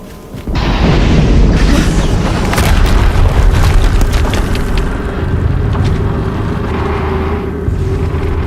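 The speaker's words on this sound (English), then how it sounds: "Another explosion." A loud, sustained explosion from the video game Horizon Zero Dawn, a heavy boom that erupts sharply and then rumbles on at full strength for several seconds, with no talk over it.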